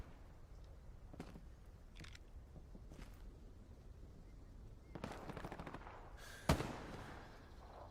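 Distant WW2 gunfire in the video game Hell Let Loose: scattered faint shots and a short rattling burst, then one sharper, louder crack near the end, all under steady background noise, with a brief spoken word.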